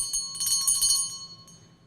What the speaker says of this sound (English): It's the bell. The crystal bell.